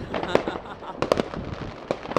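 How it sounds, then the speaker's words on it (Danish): New Year's Eve fireworks outdoors on a snowy night: several sharp explosive bangs and crackles, some in quick clusters, over steady crowd noise. A person talks nearby. "det er simpelthen så flot, alt det fyrværkeri i år"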